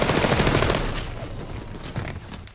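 Rapid gunfire in a video game shootout, a dense loud burst of automatic shots that fades and thins out over a couple of seconds, no talk.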